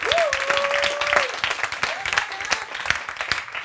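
A church congregation applauds through a Sunday service, the clapping dense and steady over a bright crowd wash, with a voice singing or calling out above it.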